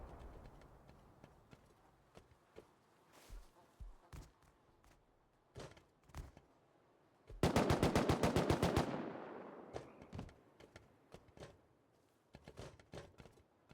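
Gunfire during a 3v3 tournament match in the Rust video game: scattered single shots at a distance, then a loud, rapid automatic burst lasting over a second, followed by more intermittent shots.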